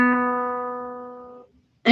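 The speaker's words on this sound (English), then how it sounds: "that's the sound of a B." A single sustained B note rings out clearly, rich in overtones, slowly fading over about a second and a half before cutting off.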